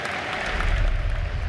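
Audience applause for Ace and Gaming Gladiators at The International Dota 2 grand final, a steady, dense wash of clapping from a large crowd that swells slightly and holds for the whole stretch.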